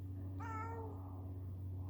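A single clear meow from a house cat, rising then falling over about half a second, close by against a steady low hum with no talking.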